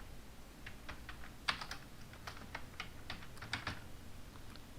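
Typing on a computer keyboard, a steady run of quick, light key clicks with a few sharper strikes, close by with no talking over it.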